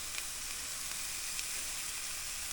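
Pork chops and steaks sizzle on a flat rock griddle outdoors, a steady, loud hiss of frying meat with faint pops and crackles running throughout and no voices.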